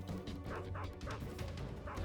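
Dog in Metal Gear Solid 3 whimpering and yelping after being shot, a short run of close, high, wavering cries over steady game background noise.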